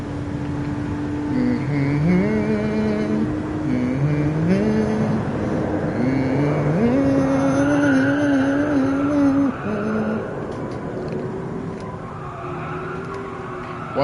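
Race car engine in Gran Turismo Sport, driven with a wheel, roaring steadily and shifting pitch through gear changes, rising and falling revs sustained and loud throughout.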